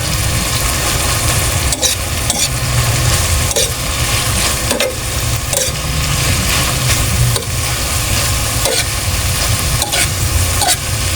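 Dried anchovies (dilis) stirred and frying in a pan with softened tomatoes and chili, a steady close sizzle broken by repeated scraping stir strokes, with no voices.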